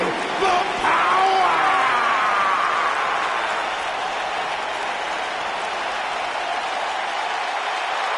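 Crowd applause from a wrestling arena in the video game WWE 2K19, a dense, steady wash of clapping that holds loud throughout, with a brief rise of cheering near the start.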